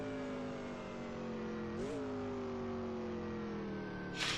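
A race car engine in a racing simulator game drones steadily and loudly throughout, its pitch dipping and rising briefly midway as the car takes a corner, with a short hissy burst at the very end.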